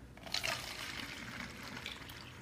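Water being poured to mix a cleaning solution, a soft steady splashing fill that runs continuously at low level with no talking.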